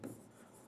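Pen or chalk scratching out a short stroke of writing during a Hindi child-development lesson, one faint brief burst lasting well under a second, heard alone.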